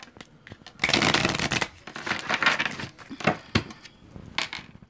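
A tarot card deck being cut and shuffled up close: a dense run of riffling, flapping card noise with crisp snaps and taps, loud and continuous over a few seconds with no talking.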